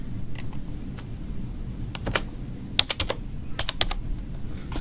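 Keystrokes on a computer keyboard entering a college ID number and password, scattered clicks in short bursts with pauses, close and fairly clear over a low steady background hum.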